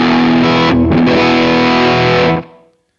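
An electric Stratocaster-style guitar on its middle pickup position, played through a Bogner Burnley distortion pedal: one loud, thick, fuzzy chord rings out with a quick re-strike, sustains, then dies away into silence.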